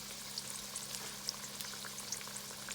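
Egg rolls deep-frying in hot grease at about 350 degrees, a steady, quiet crackling sizzle with scattered small pops and no voices.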